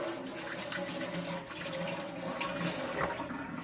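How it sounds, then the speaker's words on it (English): Hands being washed under a running kitchen tap: a continuous close rush of water splashing into a sink, with small shifts in the flow as the hands move. "I'm going to go wash my hands."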